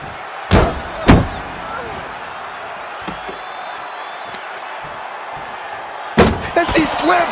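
A wrestler crashes down in a parking-lot brawl in WWE 2K25. Two hard, booming slams land close together, followed later by another heavy impact with rattling debris, over a steady bed of crowd noise.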